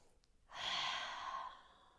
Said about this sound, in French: Expire par la bouche.